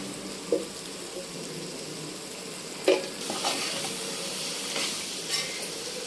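Brinjal and dry fish curry fries in oil, giving a soft, steady sizzle broken by a few sharp stirring scrapes against the pan.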